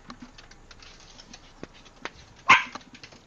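A dog scrabbles and shuffles nearby with soft pattering, tangled in a computer mouse cable beside a keyboard, then lets out one sharp, close bark.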